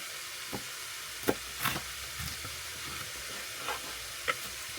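A dull kitchen knife dragged point-first down through a bell pepper, giving a few sparse, soft crunching and scraping cuts over a quiet room hiss, with no talking.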